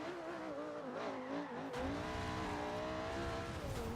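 A car, a Lamborghini Aventador-like supercar, drifts in the racing video game Forza Horizon 2, with engine tones sweeping and shifting under a sustained squeal of sliding tires, growing fuller midway and continuing steadily for several seconds.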